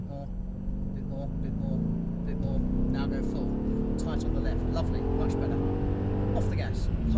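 An AMG car's engine pulls hard at full throttle on a track, a steady rising drone heard from inside the car with an instructor talking over it throughout.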